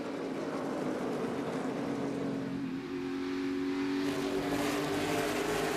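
NASCAR race cars running three wide around the Richmond racetrack, a steady loud engine roar that shifts pitch midway as the pack passes, with no talk over it.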